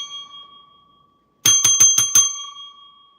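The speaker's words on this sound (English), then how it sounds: "Oh, I got a new bell." A small new bicycle-style bell is flicked five times in quick succession, bright metallic rings close to the mic, following a fading earlier ring and then trailing into a sustained shimmer.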